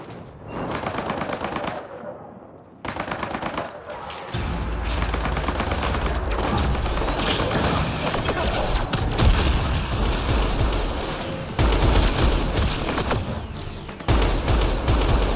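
Turrets fire on enemy men in a video game as loud, dense bursts of machine-gun fire with booming impacts, continuous and close for most of the stretch.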